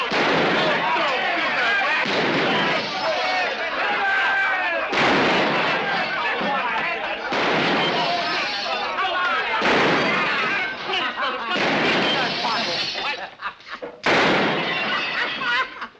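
Repeated gunfire rings out through a lawless Texas frontier town, loud, dense bursts of shots in several clusters, with a brief gap near the end and voices mixed in the din.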